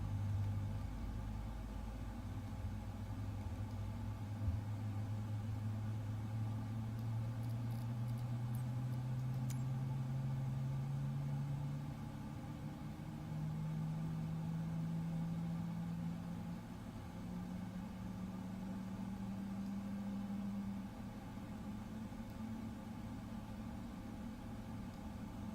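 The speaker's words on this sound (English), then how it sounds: "We have a good engine start." An aircraft engine runs steadily after start-up in Microsoft Flight Simulator 2024, a faint, even hum with a slowly rising tone as it spools and settles, heard alone without talk.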